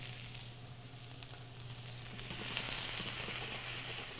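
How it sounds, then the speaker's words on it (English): Onion and peppers sauté in a pan with a soft, steady sizzle that swells louder partway through, over a low electrical hum. "So we're going to let this saute here."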